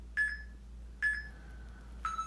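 An exercise interval timer sounds three clear electronic beeps, each a bright ringing tone that fades slowly, spaced about a second apart in a quiet room.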